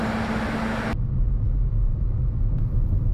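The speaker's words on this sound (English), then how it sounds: "Continuing to drive through downtown Champaign" A car driving through downtown Champaign, a steady low rumble of engine and road noise heard from inside, loud and continuous, with a broadband hiss that cuts off abruptly partway through.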